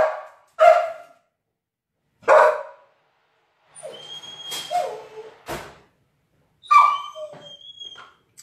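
A dog barks in several loud, separate bursts close by, with quieter knocking and scraping in between, in a home kitchen where a hazelnut and blueberry cake is baking.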